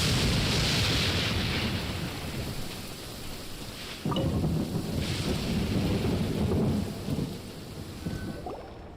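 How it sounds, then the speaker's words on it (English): A thunderstorm over the open ocean in Genshin Impact, with heavy rain and wind hissing steadily while deep thunder rolls and cracks loudly twice. "It's just a little lightning."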